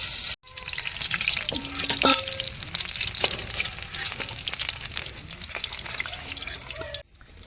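Egg biryani frying in a flaming village wok, a loud, steady sizzle and crackle with a few brief clanks of a stirring utensil, running almost continuously before cutting out briefly at the start and end.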